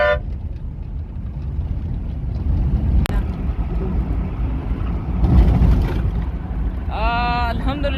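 A vehicle travels a road toward Tharparkar in Sindh, its steady road rumble and engine drone running throughout, with a brief horn-like toot and a chirpy tonal sound near the end.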